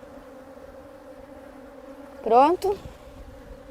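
Honey bees at an open hive hum in a low, steady drone while the old queen is returned to her colony. A louder buzzing burst comes close by near the end, and a voice says a short word.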